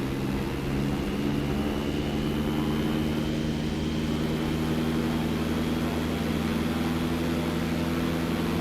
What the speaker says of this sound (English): let me get to run up real quick. I'm gonna go. Throttles up just a minute.